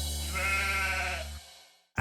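A sheep gives one long, wavering bleat that lasts over a second, loud and close, then breaks off into brief silence before a sudden burst at the very end.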